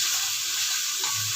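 Chopped tomatoes, three large ones, frying in a pan for ginisang toge, a loud, steady, close hissing sizzle that holds evenly throughout with no talk.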